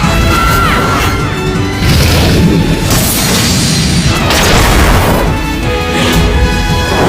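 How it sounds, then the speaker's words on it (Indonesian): A gargoyle is shot at amid loud, continuous crashing and booming, with dense blasts and impacts running through the whole stretch and no pause in the din. "Lizarte menerima aba-aba itu dan langsung menembak gargoyle."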